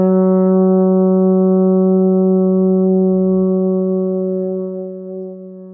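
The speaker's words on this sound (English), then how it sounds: "And that F sharp sounds like this." A baritone horn holds a single sustained F sharp, sounded with the second and third valves. The tone is steady, rich and close, with strong overtones, and it fades gently at the end with no talking.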